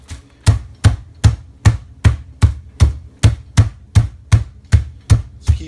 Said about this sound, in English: Just keep on beating it.